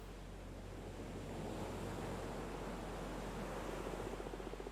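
Ocean surf washing steadily onto a beach in the game Cosmic Wheel Sisterhood, a continuous soft roar with gentle wind, faint and alone with no voices.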